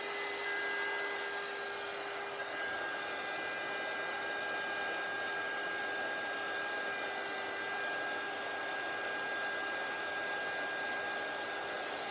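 A heat embossing tool blows hot air to melt embossing powder, making a steady loud whirring hiss like a hair dryer that runs without a break from start to finish.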